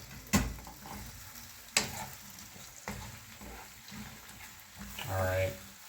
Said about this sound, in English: And these are gonna cook in the olive oil